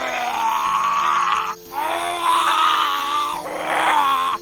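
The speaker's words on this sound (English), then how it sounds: "he decided to scream for help" A small dragon screaming for help, three long strained wailing cries with short gaps between them, loud and close with nothing else behind them.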